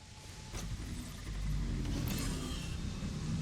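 A truck rolls along its path in the factory game Satisfactory, a low steady engine rumble that swells slightly midway, with faint higher whooshing above it and no talk.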